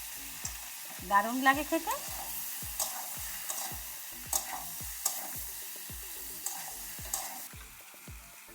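Taro pieces fry in a spiced pan with a continuous light sizzle, broken by a regular series of sharp scrapes and taps from stirring. A voice speaks briefly near the start.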